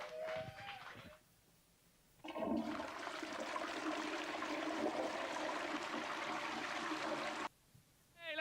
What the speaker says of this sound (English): they would flush a toilet chain if they were rubbish